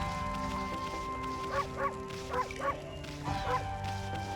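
Dogs in the video game Okami HD bark and yip in a few short bursts, some close together and some paired, all sitting over a continuous musical background.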